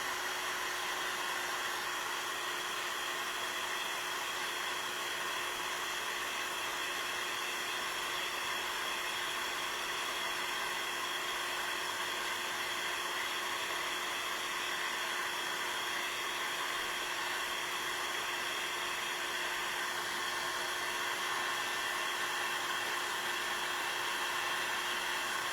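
An electric dryer blows a steady, loud, unbroken rush of air with a constant whine for the whole stretch, running close by to dry craft pieces, and nobody speaks.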